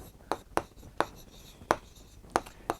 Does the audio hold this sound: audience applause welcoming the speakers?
no